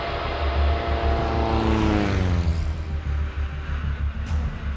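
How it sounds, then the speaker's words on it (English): Propeller drone of a Cessna light aircraft under power on a high, steep approach toward a runway, a steady loud rumble with a rising and falling engine tone throughout. "John is powering the Cessna towards the runway"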